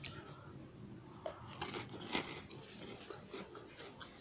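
Crunchy bites and chewing from a cracker topped with Mexican-style shrimp cocktail, heard up close as several crisp cracks followed by softer munching against faint room noise.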